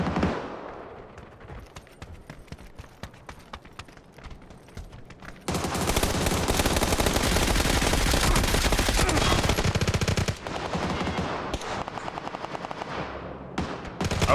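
Video game gunfire rattles in dense automatic bursts, lighter and scattered at first, then a loud sustained barrage of overlapping shots before it thins out again.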